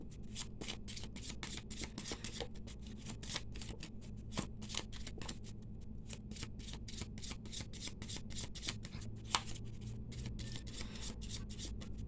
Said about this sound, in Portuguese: Embaralhei aqui, cortando as cartas então